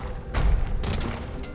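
Bombard cannons fire in Age of Empires II, a cluster of heavy booming blasts that thump over a rumbling battle din and then fade into continuing clatter.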